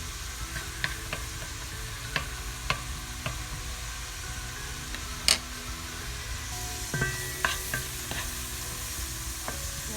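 Onions frying in a pan for a Filipino pork afritada, a steady low sizzle throughout with occasional light clicks and scrapes of stirring, one sharper clatter midway.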